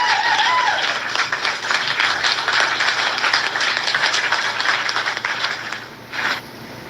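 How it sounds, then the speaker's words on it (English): A round of applause sound effect, dense steady clapping and cheering held at even loudness for several seconds, then thinning and briefly dipping near the end. "let me find my round of applause"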